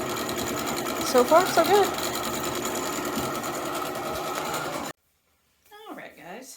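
A sewing machine quilting Riley Blake door banners hums at a steady, fast stitch under a short spoken remark, then stops, and a brief voice follows.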